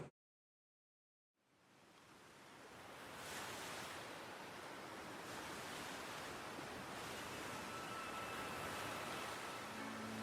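Ocean waves and a cold sea breeze rise from silence into a steady, broad wash of surf and wind, moderately quiet and continuous with no voices.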